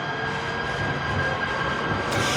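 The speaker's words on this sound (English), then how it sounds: "There's a train." A train passing near Santa Monica Pier, heard as a steady broadband rumble with a faint high whine throughout, continuous and moderately loud with no voices.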